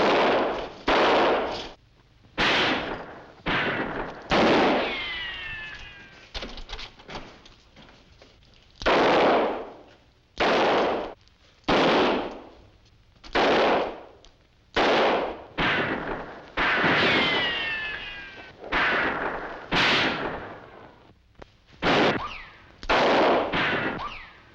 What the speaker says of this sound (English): Please don't shoot anymore.